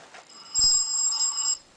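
A telephone rings in a single bright electronic trill lasting about a second, preceded by a brief low knock, fairly close and clear with no speech over it.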